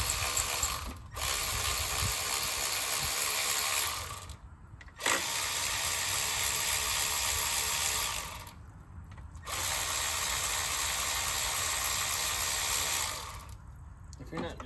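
An electric ratchet works on a Camaro, whirring in long continuous runs with brief pauses between them, close and steady.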